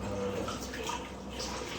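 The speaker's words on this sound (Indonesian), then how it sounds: "tetap harus disiram sama air mengalir lagi" Running tap water streams steadily over vegetables being rinsed in a kitchen, a continuous close splashing wash with no pauses.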